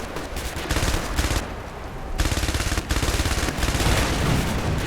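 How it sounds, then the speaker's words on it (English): Dense, loud barrage of exploding bullets and artillery fire in a video game, with rapid rattling bursts and booms broken by a brief lull. "I'm now sold on exploding bullets."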